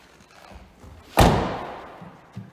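A single sharp thud as a 2021 Carthago Malibu T 410 motorhome's bonnet release is pulled, near and loud, followed by a short decaying rumble and a faint knock afterward.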